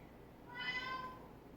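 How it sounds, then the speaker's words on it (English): A pet cat gives a single drawn-out meow for attention in a home kitchen, a clear mid-pitched tonal call rising and fading over about half a second against quiet room background. "As soon as we start, our cats want attention."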